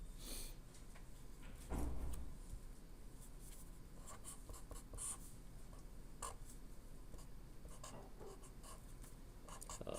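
Marker or chalk scratches across a board as a circuit is drawn, producing faint, intermittent strokes and taps over a quiet classroom background.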